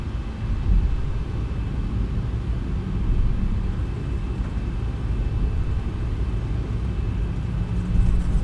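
A Boeing 737-700 taxiing in the X-Plane 11 flight simulator gives a steady, loud, broadband engine rumble and hiss that holds constant throughout, with no voices.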